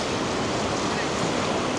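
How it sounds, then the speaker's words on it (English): Gentle ocean waves wash onto a sandy Malibu beach in a steady, continuous hiss of surf, fairly loud and constant, with a windy roar over the microphone. "And the waves are very gentle."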